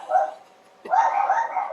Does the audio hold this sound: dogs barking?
yes